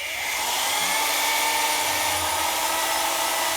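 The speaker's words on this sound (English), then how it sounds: "So now we're gonna drill the holes, rivet them in, just like the trunk." A power drill whines steadily and continuously up close while boring holes for Dzus fasteners on a Fox Body car, with no voices over it.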